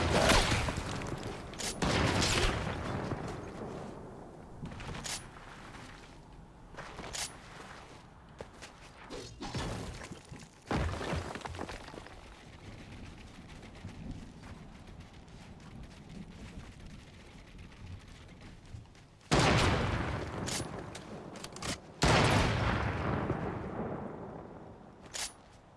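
Gunfire and shattering impacts in a shooter video game, with bursts of shots and heavy thuds clustered near the start, around ten seconds and again near the end, quieter game noise between.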